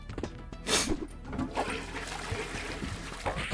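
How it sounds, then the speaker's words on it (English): A toilet flushes in the Space Jam: A New Legacy video game on Xbox One, heard as a rushing gurgle of water with trickling and splashing that stays fairly loud throughout. "you can flush it"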